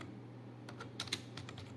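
Fingers tapping a computer keyboard while entering a search into Google, a short burst of light, close clicks in an irregular rhythm over a low steady hum.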